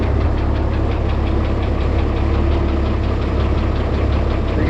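An International 1256 tractor engine running steadily at close range, a loud, constant diesel throb with a rapid knocking pulse and no voices over it.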